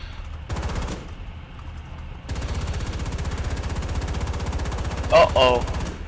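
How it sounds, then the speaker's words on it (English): Sustained machine-gun fire rattles in War Thunder, rapid evenly spaced shots in long bursts with a brief pause near the start, loud and close, while a voice talks over part of it. "Can you machine gun that?"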